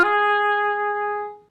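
Single sustained oboe note played with the left hand pinky A flat fingering, a clear reedy tone with strong overtones held steadily about one and a half seconds before stopping cleanly, solo with no talking.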